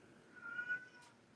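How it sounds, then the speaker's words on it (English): A single cat's meow, faint and brief, rising for under a second amid a quiet room background. "my cats want to bang"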